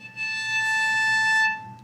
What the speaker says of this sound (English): That harmonic is the harmonic on the A string.